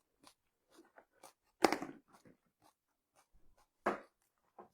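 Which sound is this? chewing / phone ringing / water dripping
chewing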